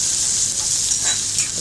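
Dried chillies fry in a hot pan with a steady, close sizzle and crackle, the hiss holding on throughout with small pops and stirring scrapes, no voices.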